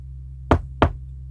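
Two sharp knocks on a door, evenly spaced about a third of a second apart, close and distinct over a low steady hum.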